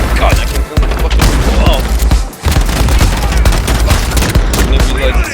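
Heavy, continuous automatic gunfire from the Modern Warfare video game, a dense, loud barrage of rapid shots that barely lets up for several seconds.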